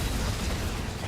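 An inhibitor is destroyed during a MOBA match at an all-star esports tournament. It is a brief, dense burst of rumbling, crackling destruction noise that fills the whole moment at steady loudness.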